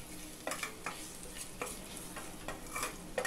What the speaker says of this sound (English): Saute this for a few seconds and turn off the flame.